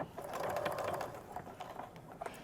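A sewing machine stitches and reinforces seams on a fashion backpack, giving a soft, rapid mechanical chatter with brief uneven bursts and pauses, close but fairly quiet.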